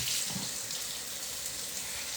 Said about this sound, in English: just splash your face with water